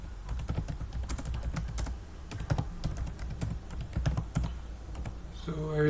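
Rapid, steady typing of code on a computer keyboard, dense clattering keystrokes running throughout at close range with a few louder key hits, over a low background hum.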